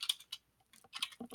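Short bursts of keystrokes on a computer keyboard, a few quick clicks, a pause, then another flurry, close and fairly quiet with no voices.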